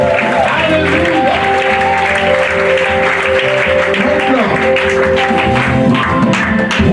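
Congregation applauding and cheering for a visiting pastor at a Faith Ministries church convention, a dense, steady wash of clapping over sustained music tones, loud and continuous throughout.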